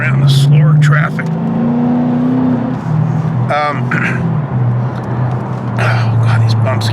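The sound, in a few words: car driving past slower traffic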